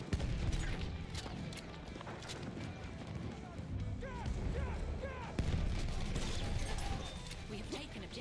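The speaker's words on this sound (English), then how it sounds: "Look out! Machine gun!" Battlefield 1 multiplayer battle with dense gunfire crackling continuously under a busy mix of shouting voices and clatter, a few heavier bursts standing out near the middle and end.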